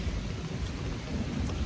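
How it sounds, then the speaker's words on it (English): Thunder rumbling low and steady under rainfall on a stormy Amsterdam street, a continuous dull roar with no voices. "It's like thundering, can you hear it?"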